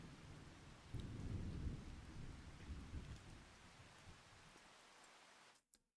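Steady rain with deep rolling thunder in the farming video game Farming Simulator 25, a loud broadband downpour swelling with a heavy rumble early on, then easing before cutting off abruptly near the end.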